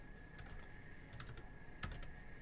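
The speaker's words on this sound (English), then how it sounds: "Having a little trouble typing tonight." Quiet, scattered keystrokes on a computer keyboard come in three small bursts of a few quick taps each, heard alone against a low background hiss.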